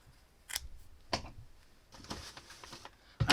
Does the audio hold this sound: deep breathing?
no